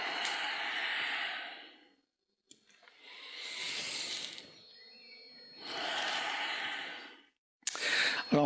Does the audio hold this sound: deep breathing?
yes